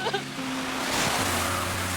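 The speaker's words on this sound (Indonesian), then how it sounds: "sebuah mobil menyiramnya dengan cipratan air" A car drives through water and sprays a person at night, a loud sustained rushing whoosh of splashing water over low engine hum and music tones.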